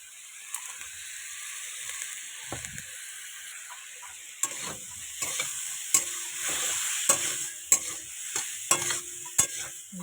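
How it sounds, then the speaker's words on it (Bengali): Katla fish being sautéed with spiced water in a pan: a low, continuous sizzle punctuated by sharp scrapes and taps of a spatula against the pan, close and fairly quiet, with no talking. "এটাকে কষিয়ে নুন হলুদ দিয়ে ভালো করে কষিয়ে জল ঢেলে দেবো"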